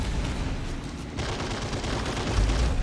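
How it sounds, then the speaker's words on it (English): Heavy machine gun fire rattles in the Assault Squad 2 wargame, a dense continuous stream of rapid shots mixed with distant booms of other battlefield gunfire, loud and unbroken throughout. "See the heavy machine gun back there."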